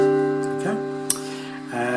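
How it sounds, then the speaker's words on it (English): A guitar in drop D tuning with a capo on the 5th fret sounds a sustained chord, with a brief pick click midway and a fresh strum near the end, close and moderate. "Okay, then you put the capo on the 5th fret and it should sound something like this."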